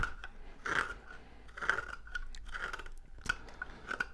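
A knife pares and slices a wooden kitchen spatula blank, producing repeated close, dry crunching and rasping strokes in an uneven rhythm, quiet and alone with no voices.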